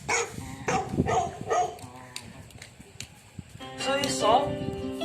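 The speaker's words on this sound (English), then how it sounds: "See, now the big dog and small male dog are fighting with each other." A big dog and a small male dog fight over a female, with bursts of barking, yips and snarls, a quieter lull in the middle, then a loud flurry of yelping near the end.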